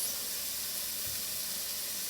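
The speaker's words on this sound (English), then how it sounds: "I'll add my prosciutto. And you're going to cook this for about 3 minutes." Prosciutto fries in hot shimmering oil in a pan, giving a steady, broad hiss and sizzle that fills the whole moment without any voices.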